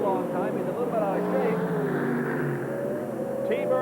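Ford Thunderbird drag racers at the 1984 IHRA Summernationals, a roaring engine drone sweeping past under a commentator's voice.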